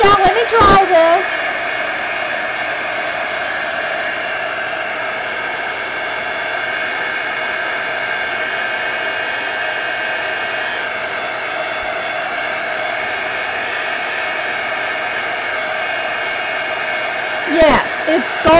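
A handheld dryer blows hot air onto wet paint on a mixed media canvas, a loud steady whoosh lasting many seconds, with brief clicks as it switches on and off at either end.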